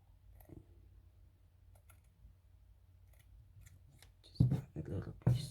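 Scissors snip through fabric for a Barbie-sized baby onesie, a few quiet clicks early on and then three louder, close cuts near the end, with no one talking.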